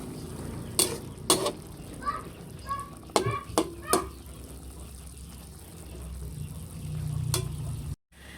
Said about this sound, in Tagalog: Kailangan pong haluin.